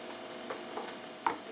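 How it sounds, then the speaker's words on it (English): Ground meat browns in a single pan for taco spaghetti, giving a soft continuous sizzle with a few light stirring scrapes and one sharper tap near the end. "you have been chopping up your meat, browning it up,"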